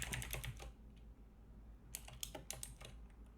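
Bursts of fast keystrokes on a computer keyboard as JavaScript code is entered, a quick run of clicks, a pause, then a few scattered presses, close and fairly quiet with no talking.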